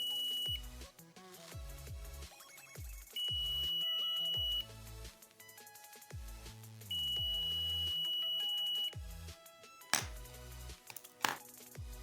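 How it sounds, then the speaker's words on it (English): A digital multimeter on continuity test across a wire gives several sustained high beeps, each lasting a second or two, with clicking and clattering probe handling in between. "If multimeter beeps like this, then this shows that the connectivity of this wire is okay."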